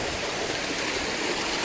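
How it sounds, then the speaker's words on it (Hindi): Ganga water gushes steadily out inside Bhairavnath cave, a loud, continuous rushing flow close by with no breaks. "ये गंगा जल यहाँ पे आके निकल रहा है"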